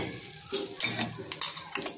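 Ground masala paste sautéed in a hot pan gives off a close, crackling sizzle. Scraping stirs and brief clatters break it up and swell in bursts.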